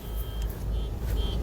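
A West Bengal-registered car flying a flag rolls along the road toward Prayagraj, giving a steady, fairly loud low tyre-and-engine rumble with faint high tones drifting over it.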